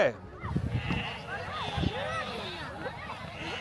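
A flock of sheep returning home from the mountain, bleating repeatedly at varied pitches, near and far, under steady crowd noise and people talking.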